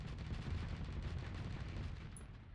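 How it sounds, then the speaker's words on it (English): Assault chain guns in the space game Starsector fire in a dense, rumbling stream of rapid shots, heavy and continuous before easing slightly at the end, with no voices. "Switch to your assault chain guns and punch through the armor."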